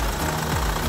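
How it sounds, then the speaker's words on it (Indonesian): A 2015 Chevrolet Captiva with a 2000 cc turbo diesel runs steadily, a close, even, low idle rumble with a smooth, continuous texture and no pauses. "Dan suara mesinnya seperti ini."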